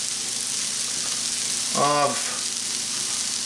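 Corned beef pasty filling fries in a pan with a steady broad sizzle, while a spoon scrapes and stirs across the bottom, and a voice speaks a word briefly over it.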